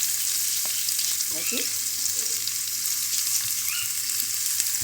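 Oil and ghee sizzle in a pan, a loud steady crackle and hiss with a few faint clinks, while someone says a word or two over it.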